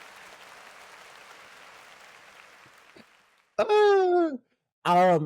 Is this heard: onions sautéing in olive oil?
no